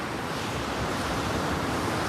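Rough sea at Clacton beach, with strong wind and crashing waves making a dense, loud, continuous roar of surf and wind noise close to the microphone, without any voices.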